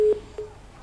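A phone line drops during a live TV news call, leaving a brief steady electronic tone that breaks off, then faint blips and low line hiss, with no one speaking.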